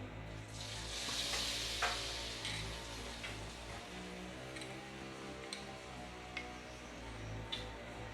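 Mung bean fritter batter for kuih kasturi drops into hot oil and sizzles, a steady, soft hiss close by with faint ticks and stirring clicks and no talking.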